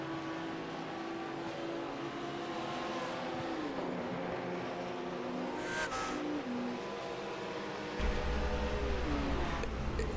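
GT3 race cars in a sim racing video game at Monza: a steady engine drone with rising and falling revs as cars battle closely, a brief squeal, and a heavier rumble near the end.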